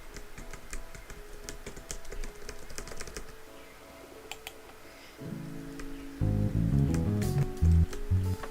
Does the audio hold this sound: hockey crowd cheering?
no